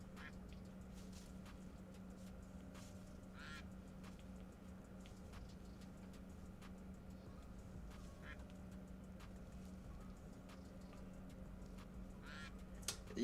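Faint, scattered duck quacks from a duck race sound effect, popping up irregularly over a low steady hum with no talking.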